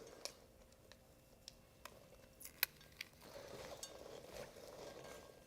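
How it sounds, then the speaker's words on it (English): Lacto-fermented cranberries crackle and pop faintly as they are stirred in a bowl, scattered sharp little clicks and snaps over a soft rustling mix, with one brighter crack standing out. "You can kind of hear them cracking a little bit too"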